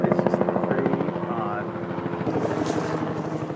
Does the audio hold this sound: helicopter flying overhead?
yes